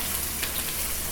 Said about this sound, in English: So you're just gonna add in your onions here.